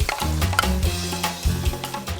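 Salawaki, a sea urchin, is sautéed with egg, onion and tomato in a pan, giving a close, steady sizzle with bursts of stirring and scraping and no voices.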